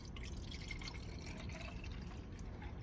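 Cell culture media poured into a tube in a lab, a soft steady liquid trickle heard close up and faint, running continuously without talk.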